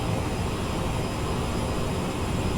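Steady, loud jet engine roar of a CRJ-700 airliner in Microsoft Flight Simulator 2020, a continuous broadband drone with no breaks and no voices.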